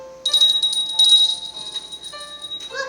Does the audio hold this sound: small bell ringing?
yes